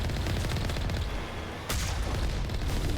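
Gunfire in the video game Mass Effect, a booming shot with a sharp crack near the middle over a dense, noisy background of game effects, loud and punchy in a short burst.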